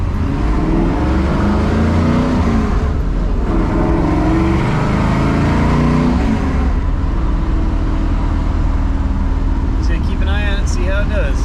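A 1973 AMC Javelin AMX fitted with Ford Contour cooling fans drives along with a loud, steady engine and road rumble, and a voice talking over it.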